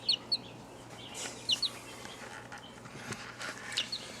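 Baby chicks, some suffering from pasty butt, give a few short, high peeps and chirps close by, scattered in quick pairs over a quiet background.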